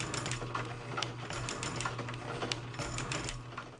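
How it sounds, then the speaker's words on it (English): A small metal shaper takes a deep 50-thousandths cut with a freshly ground tool, giving a steady mechanical chatter with repeated sharp ticks and a low hum throughout, close and fairly loud with no one talking. "try to push the shaper a little bit further, see how good my grind is on this tool"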